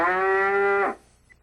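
A recorded cow moo plays from the Wildfire voice assistant, one steady, loud, drawn-out low call that cuts off abruptly.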